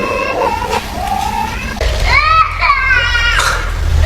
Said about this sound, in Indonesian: mendengar suara tangis bayi yang terdengar sangat jelas